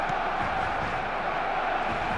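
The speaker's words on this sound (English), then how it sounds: "the roof's just about stayed on, but the crowd level has gone up a notch or 10" A stadium crowd in an eFootball match roars in a dense, steady wash of cheering and shouts, loud and unbroken throughout.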